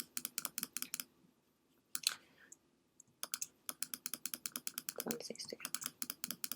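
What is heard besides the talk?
computer mouse clicks while painting brush strokes in Photoshop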